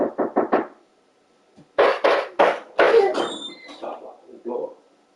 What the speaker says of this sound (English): Stop locking the door.